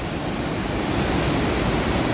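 Heavy rain-swollen torrent pouring over a waterfall of muddy red-brown water, a loud continuous broadband roar, steady and unbroken with no voices.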